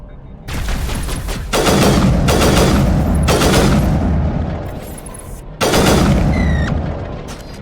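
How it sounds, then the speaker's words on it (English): Gun test in the video game Mass Effect: a series of loud, close, sharp shots in bursts, each with a booming tail, one pause before a final burst. "I was just testing out my gun then and didn't like that one"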